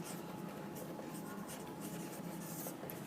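A pen scratches steadily across paper while working out a geometry exercise, a continuous close, soft scraping with small strokes and pauses, no voice heard.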